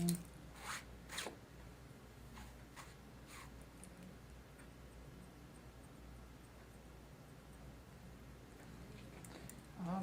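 Sayuri Dry Finish shear point cutting hair, giving a few quick crisp snips near the start and a couple more at the end, with faint low room hum between them.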